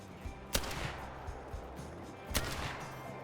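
Shotgun blasts at ducks in Call of the Wild ring out at a salzwiesen marsh, two sharp loud reports about two seconds apart with quieter gunfire-like thumps and ambient background between them.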